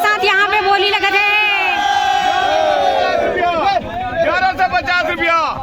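A loud, dense crowd of voices shouts bids at a vegetable market auction for crates of tomatoes in Kawardha. Excited calls overlap continuously in a close, noisy hubbub.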